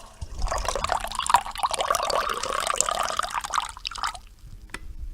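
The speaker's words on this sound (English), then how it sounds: "I'm just pouring some coffee in my cup." Coffee poured into a cup, a steady liquid stream with a rising gurgle lasting about four seconds, close and clear, then tapering to a few drips and a small clink.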